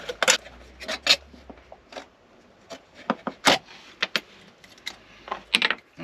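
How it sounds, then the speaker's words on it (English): A Stanley knife blade scrapes and cuts around the bottom of a metal drink can, giving irregular short scratchy rasps and clicks, close and fairly quiet with no talking. "cut off the bottom of said can. I'm just using a Stanley knife blade"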